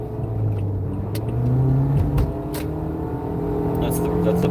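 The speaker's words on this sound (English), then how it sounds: "I hate it when there's still rush hour traffic on a Sunday." Steady rumble of city road traffic on a Sunday, cars idling and rolling past with engine drone and a couple of brief sharper passes, heard from inside a vehicle.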